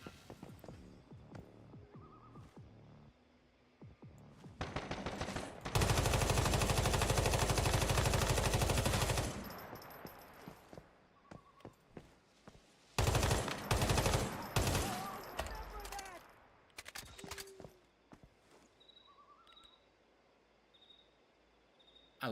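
Gunfire from a new gun in the Once Human video game: scattered shots, then two long, loud, continuous bursts of rapid automatic fire, with other game effects in between.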